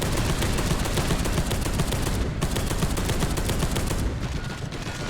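Continuous, dense video game gunfire, rapid machine-gun-like shots rattling loudly and close with almost no break, briefly easing in the middle before resuming.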